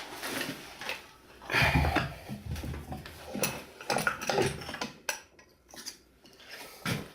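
Small metal clinks, taps and scrapes from pressing a miniature dollhouse pot into shape, coming in irregular close bursts with brief quiet gaps.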